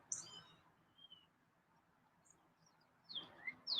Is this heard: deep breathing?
no